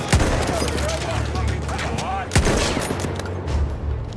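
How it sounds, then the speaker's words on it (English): Rapid machine gun bursts in the World War I shooter Battlefield 1 during the Gallipoli campaign, dense and continuous with loud sharp reports and heavy battle noise throughout. "I have a machine gun."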